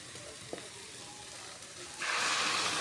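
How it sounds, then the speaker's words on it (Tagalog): Boiled mung beans poured into a hot pan, a faint background hiss that abruptly swells into a loud, bright, continuous sizzle partway through. "ilagay na natin ang munggo na ating pinakuluan"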